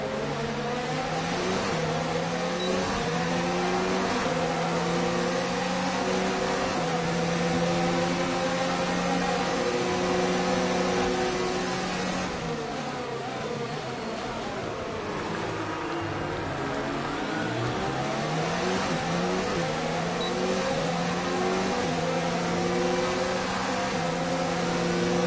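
F1 race car engine in the F1 2019 video game, a loud continuous high whine with pitch rising and falling through gear changes, alone without talk.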